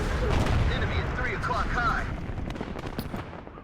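Missile strikes and gunfire in the Cold War strategy game WARNO, a dense ongoing rumble of distant artillery-like blasts and scattered shots, loud and steady before easing slightly toward the end, with a voice talking over it.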